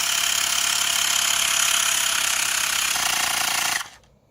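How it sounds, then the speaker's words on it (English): A pump inflates the rear tire of a Trikke Defender to 65 psi, a loud steady mechanical buzzing drone that runs continuously, shifts slightly, then cuts off abruptly. "Okay, we pumped the rear tire to 65 psi"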